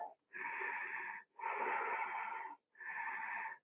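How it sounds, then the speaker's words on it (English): Deep Ujjayi yoga breathing during a twisting flow: three long, audible throaty breaths with a soft ocean-like rasp, close and steady, separated by brief pauses. "Deep Ujjayi breaths."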